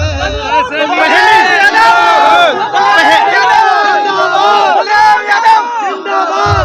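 A large, loud crowd gathered at an independent candidate's village election campaign event in Raipur Jagir, Shrimadhopur, chanting and shouting together in a continuous dense roar of many voices.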